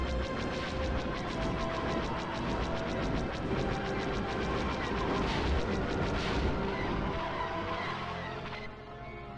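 Continuous rumbling blasts and laser fire from ships shooting buildings in the video game Star Wars: Rogue Squadron, a dense roaring barrage that runs loud for most of the stretch before easing off at the end.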